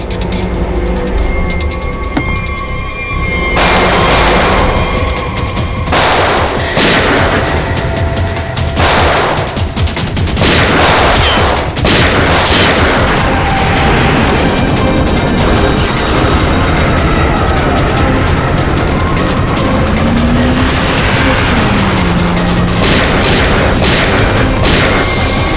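Gunfire erupts during a tense standoff in a TV crime drama, with repeated loud sharp shots and booms scattered across a noisy, dense action scene.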